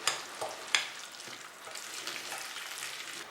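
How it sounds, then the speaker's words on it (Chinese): Tofu meatball mixture with egg white and peanut oil being stirred and worked in a bowl, a wet squelching and scraping over a few seconds with a couple of sharper knocks near the start. "搅匀后打一个蛋清，少许花生油，再次搅拌上劲"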